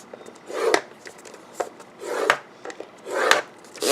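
A stylus scores paper for a handmade treat box, with four firm scraping strokes in a steady rhythm, each a close, raspy rub followed by a short pause.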